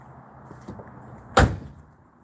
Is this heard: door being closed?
yes